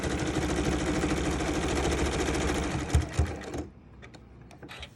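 A sewing machine stitches steadily and close-up on a reversible apron for several seconds, a few heavier knocks near the end before the motor stops, leaving scattered small clicks and handling noises.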